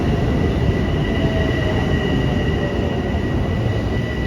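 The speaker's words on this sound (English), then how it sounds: "And here we are, the train has arrived." A subway train pulls into a station in Queens in cold weather, a loud steady rumble of rail cars with a faint high whine running throughout.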